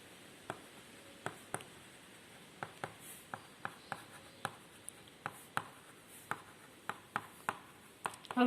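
Marker or chalk taps and short strokes on a classroom board during a chemistry lesson, a steady irregular series of crisp clicks over low room hiss with no talking.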